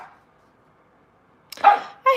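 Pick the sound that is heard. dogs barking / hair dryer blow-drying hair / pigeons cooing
dogs barking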